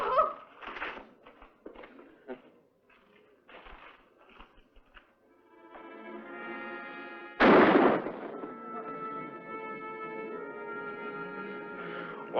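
A gun fires in a western shootout: scattered sharp cracks and small bursts early on, then one loud close shot followed by a sustained ringing tone, with faint background activity.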